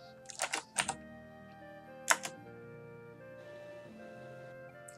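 Several quick bursts of computer keyboard typing come from a home setup during an online tabletop role-playing session, two clustered groups of close, crisp key clicks over a low background hum with musical tones.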